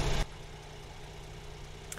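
A Porsche engine idles in a racing video game played on a Thrustmaster T150 Pro wheel. A short loud burst at the start gives way to a low, steady, even hum.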